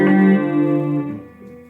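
Guitar chord from a lesson, fingered with the third finger on the fifth string's third fret, strummed once and ringing out alone before slowly fading.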